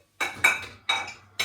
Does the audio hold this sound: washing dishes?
yes